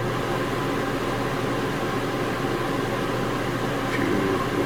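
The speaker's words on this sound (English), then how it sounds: "change from your mode from off to a fan to air conditioning. I'll let that kick on here." An RV air conditioner in a Jayflight SLX 265RLS travel trailer runs with a steady, close, even whoosh of air and motor hum, unchanging throughout with no talk.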